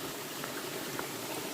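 Water pours steadily at a mountain waterfall in the North Carolina Mountains, making a dense, even, continuous rush with no pauses or other sounds.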